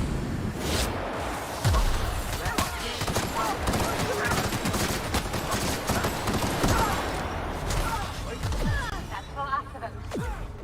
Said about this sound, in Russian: оно еще очередями стреляет